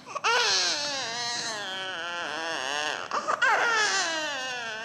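A recorded baby cries close and loud, with long strained wails broken by a brief catch of breath before the crying surges again.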